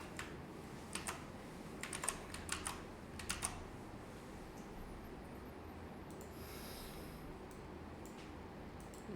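A computer keyboard clatters as code is written, several short bursts of close, crisp keystrokes early on, then quieter scattered taps over a low steady room hiss.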